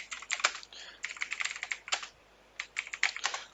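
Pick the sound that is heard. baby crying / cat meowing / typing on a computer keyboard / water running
typing on a computer keyboard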